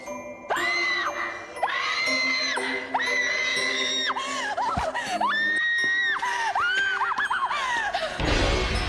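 A performer in a film screams on seeing blood spattered across the floor, with a series of loud, long, high wailing cries that rise and fall over nearly nine seconds.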